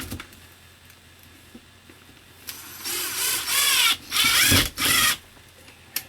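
A power drill drives into an OSB wall in a tiny house bedroom and strikes a screw head, giving several loud whirring, whining bursts close by, each a second or less, after a quiet stretch.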